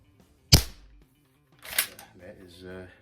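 A Barra 1866 CO2 rifle with a rifled barrel fires a single sharp, close crack, then a short breathy release. A person speaks softly afterward.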